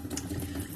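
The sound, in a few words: water running from a tap being turned on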